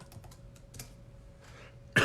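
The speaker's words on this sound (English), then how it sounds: "So I'm typing in Messenger for you." Quick, light clicks of typing on a computer keyboard tap in an uneven rhythm at close range, followed by a sudden louder burst like a cough at the end.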